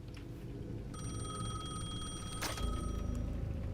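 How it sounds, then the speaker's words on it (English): A payphone in the Alan Wake 2 video game rings with a bright electronic trill, repeating under a low ambient game hum, fairly faint with no speech. "The payphone at the edge of the plaza was ringing again."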